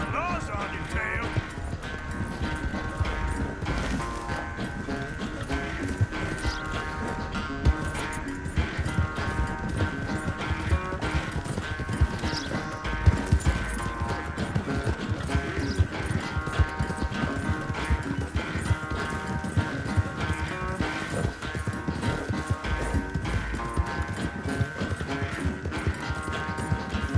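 A horse gallops in Red Dead Redemption 2 with a fast, steady clip-clop of hooves under game music and voices talking.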